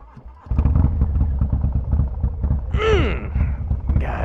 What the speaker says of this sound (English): let's get the bike started